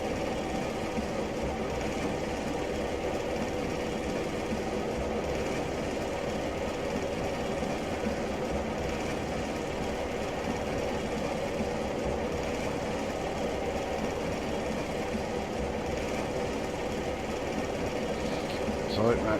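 Class 117 diesel multiple unit engines in Train Simulator Classic, running between Paignton and Exeter St. David's: a steady, continuous low mechanical drone and rumble with a dense hum, holding an even level throughout.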